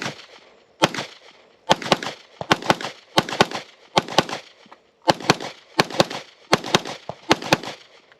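A Walther PDP pistol fires a string of rounds on an outdoor range, the sharp, loud reports arriving in uneven bursts of two or three with short gaps between.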